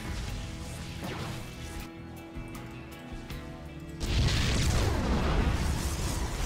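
A Protoss pylon in StarCraft II collapses with a loud crash and burst of debris noise that sets in suddenly and rings on for a couple of seconds over a busy game background.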